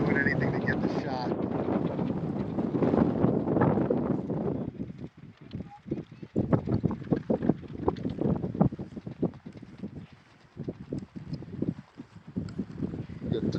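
Wind buffets the microphone outdoors at a cycling race, a heavy, steady roar that eases and returns in gusts, with a voice heard under it.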